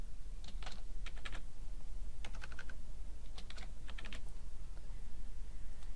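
Typing on a computer keyboard to enter a time into a form, several short bursts of quick key clicks separated by brief pauses, close and fairly quiet over a faint steady hum, with no talk.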